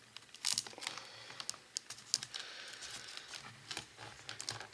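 Packaging of a UNI-T UT15C voltage tester being opened: soft crinkling, tearing and tapping of paper and plastic, close and fairly quiet, in irregular bursts with no talking.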